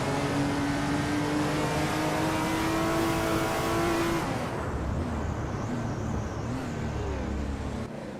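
A 1970 Plymouth Barracuda racing in a video game at Valencia Street Circuit, its engine roaring loud and steady as it accelerates through rising gears, then dropping to a rougher lower drone.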